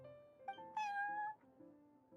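A cat meows in the Genshin Impact video game: one short, clear meow rising and falling over soft background game tones, fairly quiet, with no talking.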